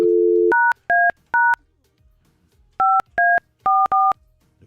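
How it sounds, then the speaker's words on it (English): A telephone's touch-tone keypad beeps after a short dial tone, then a quick string of dual-tone digits is punched in with uneven spacing, clear and close with no talking. "Just now we go and call him back again."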